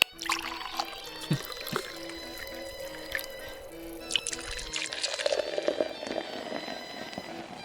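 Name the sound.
liquid pouring into a pot of leaf soup, in a video game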